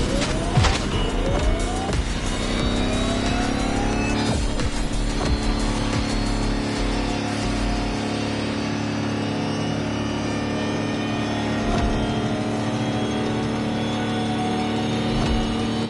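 Electric Lamborghini concept hypercar from The Crew Motorfest drives past at speed, a loud, continuous whine with rising and falling tones and a brief tire squeal near the start, no talk.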